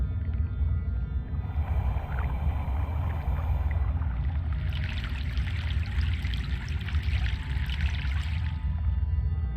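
A boat crossing a river in the video game Broken Sword: a steady low rumble with sloshing, flowing water throughout, growing brighter and splashier in the second half, with no voices.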